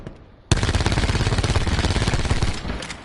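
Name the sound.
automatic gunfire in video game Black Ops 4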